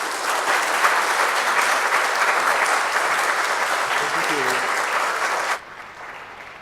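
An audience breaks into sustained, loud applause as an archaeologist, Dr. Brian Rose, is welcomed to speak at a conservation talk, the dense clapping holding steady for about five and a half seconds before cutting off abruptly.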